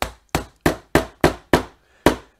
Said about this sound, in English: If you listen to the hammer, you can see right here it's easy.